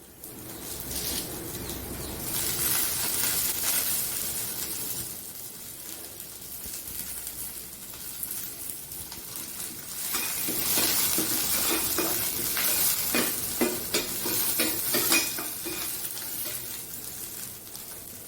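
Chillies frying in a pan for an Andhra-style Chettinad chicken curry, a continuous crackling sizzle with stirring and scraping, swelling louder in the second half.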